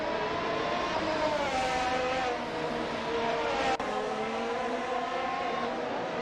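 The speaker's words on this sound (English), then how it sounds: "let's see these AI racing cars in action" AI-driven race cars roar continuously in an F1 Atlanta racing video game, several engines droning and shifting pitch together at steady loudness, with a brief sharp dip partway through and no talk over them.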